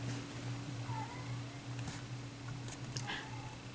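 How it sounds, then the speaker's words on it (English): Sweetie, a pet cat, whines faintly from another room in a few thin, drawn-out meows over a steady low electrical hum and background hiss. "as our cat Sweetie whines from the other room"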